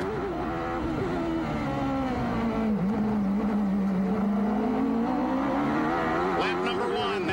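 Bobby Rahal's Indy race car screams along from an onboard nose position at the 1993 Detroit Grand Prix, its engine droning loud and constant as the pitch dips and climbs again through a corner, with a broadcast voice faintly underneath.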